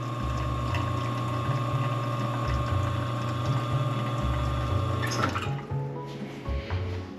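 Espresso machine pulling a slow shot, its pump droning steadily with a loud hum and liquid trickle for about five seconds before the tone cuts and a quieter drip-and-hiss tail follows.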